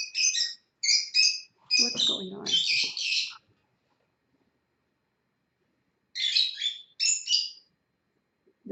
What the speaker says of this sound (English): I guess it's the baby lovebirds